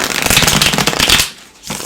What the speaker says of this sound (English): while I am shuffling these here